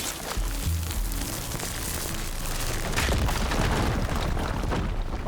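A fire gleam explodes in Horizon Forbidden West, giving a loud, dense roar of blast and crackling debris that fills the whole stretch and swells again partway through.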